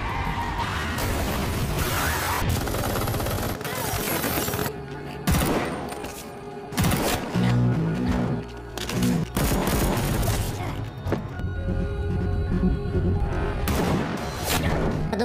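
Gunfire in a sniper assassin action film, bursts of shots and booms mixed with dense score and effects, loud and layered, with shouts and brief gaps between volleys.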